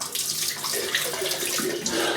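Water running from a tap to rinse a razor, a close, steady splashing stream with small shifts in the flow, continuous and alone.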